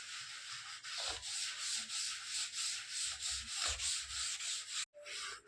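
A cloth pad rubs gum-water polish onto a silk saree in steady back-and-forth strokes, a soft rhythmic scraping heard close and alone, ending with a brief pause and knock.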